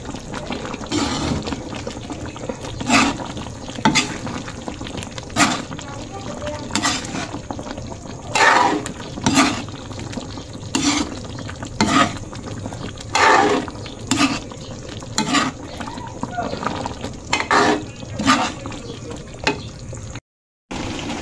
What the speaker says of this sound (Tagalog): Atin pong haluin.